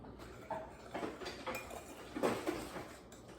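Spoons and utensils clinking and rattling against dishes in a home kitchen while an apple pie is being made, several light separate clatters close by, no talking.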